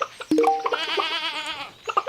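A nanny goat in the Stardew Valley farming game gives one long, wavering bleat, clear and close, framed by a few short soft game clicks and blips before and after.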